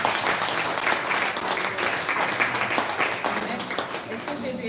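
Church congregation applauding and cheering for the Lord during an evening worship service, a dense, steady wash of clapping and voices throughout.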